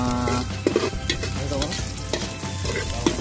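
Garlic sizzles and crackles steadily in a hot pan while a utensil stirs and scrapes it, with clinking hits and a continuous close frying hiss throughout.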